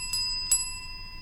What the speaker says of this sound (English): There's your bell.